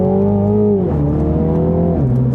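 A 306 hp 2020 Mini John Cooper Works GP pulls hard in a manual-style shift mode on a twisty track, its engine note climbing steadily, dropping briefly at each gear change, then rising again, loud and close with no talking.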